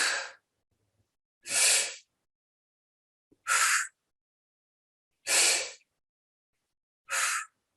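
Five forceful breaths pushed out through the lips in a diaphragm breathing exercise, each a sharp breathy hiss lasting about half a second, spaced roughly two seconds apart with silence between, close and clear.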